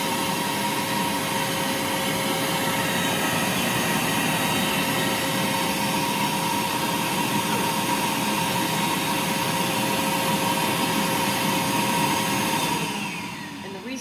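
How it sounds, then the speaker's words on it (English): An Arduino-controlled floor sweep on a workshop dust collection system runs with a loud, steady blower roar for most of the stretch, then begins spinning down near the end. "let me show you the floor sweep in action."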